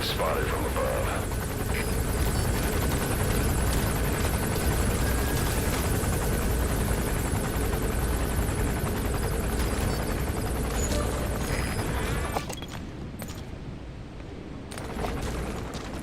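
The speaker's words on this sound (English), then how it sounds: "Looks like the arms dealer's chopper is going to patrol for the security forces" The arms dealer's helicopter in Metal Gear Solid V gives off a loud, dense, continuous rotor roar that fills the scene, then drops off abruptly near the end.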